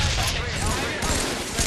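Battle rifle burst fire in Halo 3 during a 2008 MLG Las Vegas Nationals match, heard as a dense, loud, continuous volley of rapid gunshots throughout.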